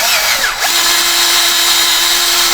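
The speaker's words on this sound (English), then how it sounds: "It's aluminum, so it drills out super duper easy." A power drill bores steadily into an aluminum casting ahead of a helicoil thread insert, a loud continuous whine holding one pitch after a brief dip as the bit bites in.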